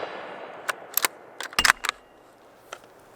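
Ruger American Scout rifle firing at steel silhouette targets outdoors: several sharp, loud gunshot cracks in an uneven cluster, some rapid pairs with ringing steel-plate impacts, then a fainter single shot after a pause.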